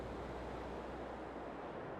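Water rushing and flowing in a flooded rice field in Farming Simulator 22, a steady broadband wash like surf, moderately faint and unbroken, with no talk.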